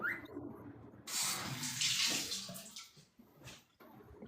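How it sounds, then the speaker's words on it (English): Shower water runs in a steady, hissing spray that surges louder partway through and keeps splashing with small fluctuations, heard on its own. "Are you like getting in the shower or something?"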